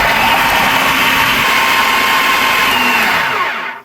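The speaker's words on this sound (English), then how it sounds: "Okay, so we're going to turn this on high." A food processor on high speed mixes chicken pizza crust, giving a loud, steady whirring motor drone that holds for several seconds and then cuts off and winds down at the end.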